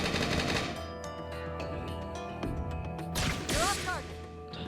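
Video game gunfire from a back shot in Lost Dimension: rapid, loud bursts of shots cracking over a continuous game soundtrack, with a brief swooshing effect near the end.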